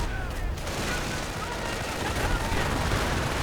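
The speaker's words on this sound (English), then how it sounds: "Bullets tearing through the fence" Dense, continuous gunfire in a wartime video game, bullets tearing through a fence amid rattling bursts and distant booms, loud and sustained throughout with no gaps.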